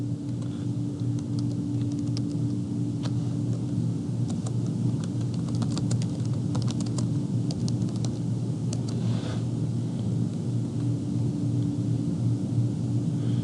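Keys click quietly on a computer keyboard in scattered soft bursts, faint over a loud steady low hum of room or engine noise, with no speech.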